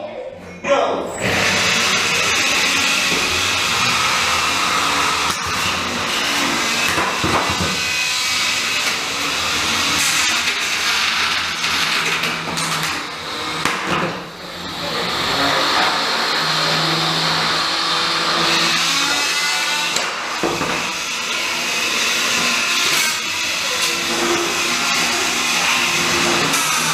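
Antweight combat robots clash in an arena bout against Drummer Boy, a heavy-hitting vertical drum spinner, with a loud, continuous motor whine and spinning-weapon roar, broken by sharp impact hits and a brief lull midway.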